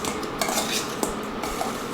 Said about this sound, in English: So just give them a good toss